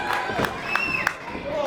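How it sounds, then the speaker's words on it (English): A wrestling crowd at the Bel Air Armory gives scattered, moderate cheers and shouts, with a few whistles rising above steady arena murmur. "Jesse's still getting a smattering of cheers from the crowd here at the Castle, the Bel Air Armory"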